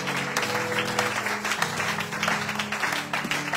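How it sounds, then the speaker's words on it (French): A church congregation applauds and cheers together, a dense, steady wash of clapping hands filling the space with some voices mixed in. "Est-ce que quelqu'un peut acclamer pour la mission de Jésus?"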